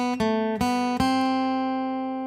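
Three plucked acoustic guitar notes on the B string, open then fretted at the first fret for a suspended sound, each clear attack ringing out and decaying slowly, played alone and close.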